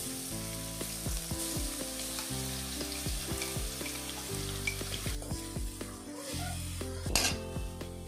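Onion and garlic paste frying in hot oil in a kadai, a steady close sizzle with stirring and occasional clinks of a spoon against the pan, no voices.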